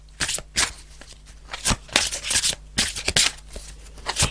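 Tarot cards shuffled and pulled, with a series of sharp riffling flicks and soft card slaps in an irregular rhythm, close and fairly loud, with no talk.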